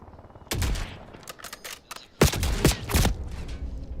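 Loud, close bursts of gunfire in Verdansk during a Call of Duty Warzone match, two clusters of sharp cracking shots separated by a brief lull, with scattered single reports in between.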